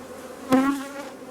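Honeybees buzzing around an open hive as a frame is handled, a steady droning hum with one bee passing close and loud before fading back into the swarm.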